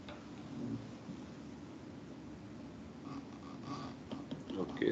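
Steady rain hiss with a low rolling rumble of thunder beneath it, constant throughout and swelling slightly toward the end, with no voices.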